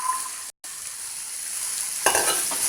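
Green beans sabzi with turmeric frying in a pan, a steady sizzle with stirring scrapes, a brief gap, then a louder burst of sizzling toward the end.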